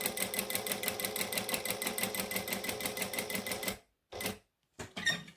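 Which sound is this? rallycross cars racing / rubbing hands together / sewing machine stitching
sewing machine stitching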